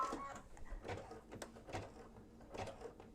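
An embroidery machine stitches an in-the-hoop mug rug, giving a quiet run of rhythmic mechanical clicks and whirring pulses at close range with no talking.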